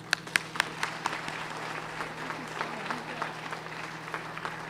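Audience applause welcoming Alan Liu at a DC mayor's AAPI Heritage Month celebration, steady indoor clapping from a seated crowd with a few sharp nearby claps, moderately loud, lasting several seconds.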